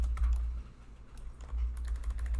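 Rapid key clicks from a computer keyboard sound close over a low background hum, coming in two short flurries with a brief lull between them.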